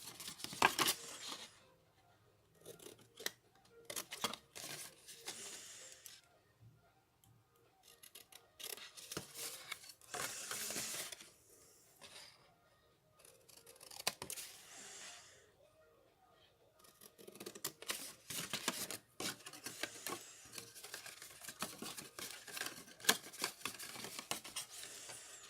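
Scissors snipping card corners while mitering a handmade gift box, a series of quiet, sharp crisp cuts in separate clusters with rustling paper between them, close by.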